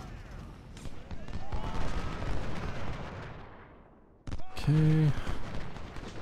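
Cannon and artillery fire in the Ultimate General: Civil War video game, heavy booms rumbling and fading, then a sharp fresh blast with ringing tones; someone briefly speaks.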